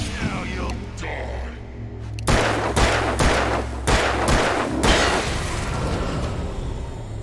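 A handgun fires in Alan Wake, several loud, separate shots at uneven gaps, each a sharp crack followed by a short ringing tail over a low, droning background.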